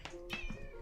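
A pet cat meows a couple of short times indoors, quiet and close, the calls rising and falling within under a second.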